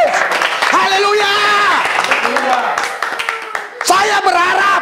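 A church congregation at GBS Metanoia cheers for Jesus, with raised, sustained voices shouting and clapping loudly together and brief sharper bursts of applause.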